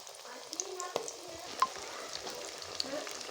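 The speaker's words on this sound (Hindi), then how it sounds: "अब डाल दिए हमने अपने पकोड़े।" Onion lachha pakoras with sliced capsicum sizzle in hot oil in a home kitchen, a steady close crackle and hiss with small pops, and a soft clink of a utensil partway through.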